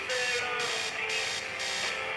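An alarm clock buzzes loudly in repeated pulses, a harsh tonal ring cycling on and off about twice a second, close by with no talking.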